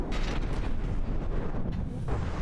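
Missiles striking a target in the video game From the Depths: a dense, continuous roar of heavy booms and rumbling blasts, loud and close, with several sharper impacts rising out of it.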